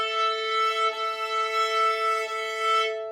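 Violin bow catching the E string alongside the open string, producing a bright, slightly wavering double tone that holds for about three seconds and then cuts off, close and alone.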